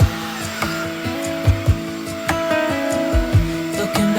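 A Hoover vacuum cleaner runs loud and close with a steady droning motor, its pitch dipping and surging in short bumps as it moves across the floor.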